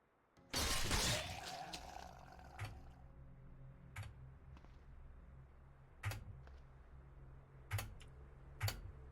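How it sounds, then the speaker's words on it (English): In the video game Cataclysm DDA, an acid corpse is smashed with one loud crashing shatter, followed by faint, scattered ticks and taps. "Smashed an acid corpse."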